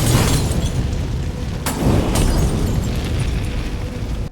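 A Molotov cocktail bursts into a roaring fire in Batman: Arkham Origins. The dense, loud burning continues throughout, with a couple of sharp cracks partway through.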